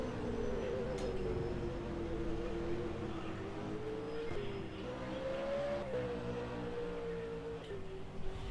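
V8 race cars in a racing simulator at the Barbagallo track at night, a steady engine drone whose pitch rises and falls gently with gear changes, held at a constant moderate level with no talk.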